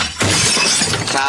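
Plates and ceramic jars shatter in a loud, sustained crash, breaking pieces clattering continuously for over a second.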